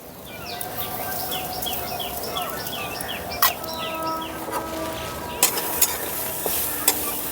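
Grated coconut and jaggery with a little sugar stirred in a hot wok for Bengali patishapta filling: a continuous soft sizzle under scraping strokes, with a few sharp clicks of the spatula against the pan.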